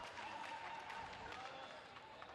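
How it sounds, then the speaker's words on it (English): Crowd cheering and applause at a quidditch match after a snitch catch, a dense, distant-sounding roar of voices and clapping that stays steady and fairly faint throughout. "Cheers from the crowd for that snitch catch."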